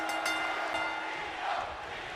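A loud, steady arena crowd roar from the WWE 2K25 video game, sustained and dense with rising swells of cheering throughout, with no voices speaking over it.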